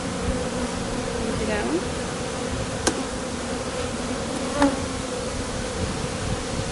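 Honey bees buzz steadily around an open hive in a backyard apiary, a dense continuous drone close to the listener, with a few brief sharp clicks and a short spoken question over it.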